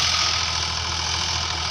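A Sonalika DI 35 three-cylinder 35 HP tractor engine runs steadily while pulling an 11-tine cultivator, a loud, close, even drone with a constant low throb.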